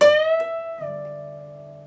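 An electric guitar note on the 15th fret, played slowly for a guitar lesson, bent up a full step and brought back down; one sustained ringing tone that glides up, shifts, then decays slowly, with no other sound.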